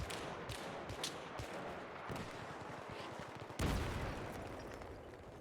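Continuous gunfire from a shooter video game crackles close and dense, with rapid overlapping shots and a heavier blast partway through, all without talk.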